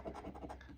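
Coin scratching off an Oregon $1 Night Owl Crossword lottery ticket, a quick run of close, faint rasping scrapes in short repeated strokes.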